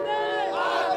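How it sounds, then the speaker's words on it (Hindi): A large crowd gathered at Jai Stambh Chowk in Raipur chants and cheers together, a loud sustained wash of many voices in unison. "यहाँ पे देखिए भारी भीड़ पहुंची हुई है"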